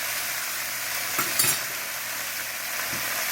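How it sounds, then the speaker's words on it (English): Chicken stir fry sizzles in a hot pan with a constant crackling hiss, broken by a few brief scraping stirs. "Now, let it fry like that."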